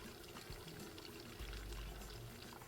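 Hot water poured into a container of dry ice, a steady close pouring wash with low bubbling rumble building toward the end.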